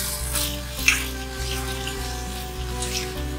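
Onions sauté in oil in a pan with fennel seeds, cinnamon and cloves for a Tamil mushroom fry, giving a quiet, continuous sizzle over a low electrical hum, with one small pop and no talking.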